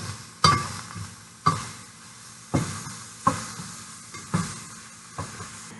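Onions and mushrooms cooking in hot oil in a pan, a soft steady sizzle punctuated by six sharp scraping stirs spaced about a second apart, with no talking.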